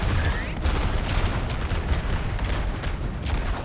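Dense, continuous musket volleys mixed with booming artillery in a Napoleonic battle video game, a loud, rolling wall of gunfire with overlapping cracks and thuds throughout.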